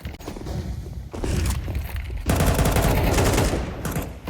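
Rapid bursts of AK rifle fire in Counter-Strike 2 during a PGL CS2 RMR Asia grand final match, dense and loud, with overlapping shots and other gunfire filling the whole stretch.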